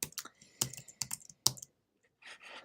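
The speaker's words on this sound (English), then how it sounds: "I'm using command right arrow and left arrow to skip to the beginning and end of the line" Computer keyboard keys pressed in quick irregular clusters of clicks, close and clear, with short pauses between the bursts.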